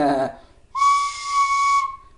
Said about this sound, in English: the C sharp, which is taking all your fingers off the tin whistle